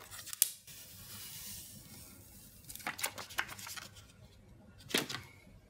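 Protective film being peeled off a new Infinix Note 5 Android One phone screen, heard as a few short crackling rips spaced apart, close and fairly quiet with no talking.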